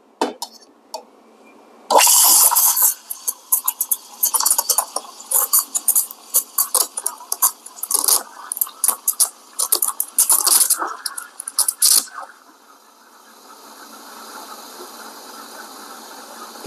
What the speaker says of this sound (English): Let's steam the milk.